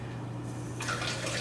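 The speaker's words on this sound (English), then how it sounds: "I put the mushroom under the water, and I just wipe the dirt off the mushroom with my finger" Mushrooms are rinsed under a kitchen faucet running at very low pressure, a soft steady trickle and hiss that swells slightly partway through, heard close and fairly quiet.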